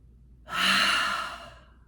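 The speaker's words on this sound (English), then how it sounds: "Hold. Exhale. Keep doing that breath." One deep exhale during a breathing exercise, a soft breathy rush that rises quickly, then fades over about a second and a half, close and alone.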